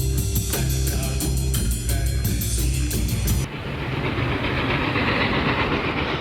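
Diesel-hauled freight train rolling loudly along rails, close and steady, with rhythmic clickety-clack wheel beats that shift into a rougher, continuous rumble partway through; no voices.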